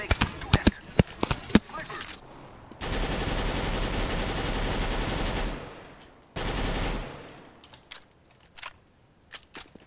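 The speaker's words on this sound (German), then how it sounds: "Ich mache hier Testschuss." Test shots in CS:GO: sharp single gunshots, then two long, loud bursts of automatic fire, with scattered clicks and shots between, heard close and under occasional talk.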